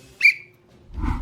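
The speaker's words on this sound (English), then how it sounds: "I will whistle if you guys are getting into a dangerous place" A single short, bright whistle blown as a signal, sounding once near the start, followed moments later by a low rumbling burst of movement or handling noise.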